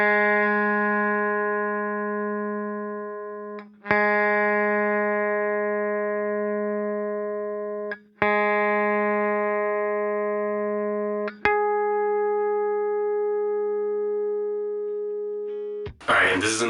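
A single guitar string rings out in long sustained notes, plucked four times at slow intervals, being tuned up a half step from G to G sharp, each pluck decaying before the next, ending with a brief rustle.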